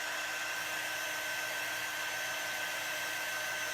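A hair dryer blows steadily to dry chalk transfer paste on a lettering stencil, giving a loud, continuous, even rushing whine with no pauses.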